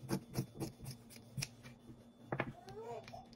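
Scissors cutting fabric for an off-shoulder ruffle top, a rapid series of crisp snips in an uneven rhythm, close and fairly quiet, with brief talk near the end.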